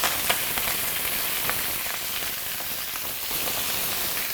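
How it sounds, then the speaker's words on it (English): Garlic and spinach frying in hot oil, a loud continuous hissing sizzle with a few faint pops and clicks, no speech. "The garlic already jump with the oil."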